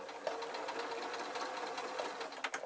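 A sewing machine stitching a proper waistcoat, running in a fast, even whirring rattle close by, quiet overall with a brief stop near the end.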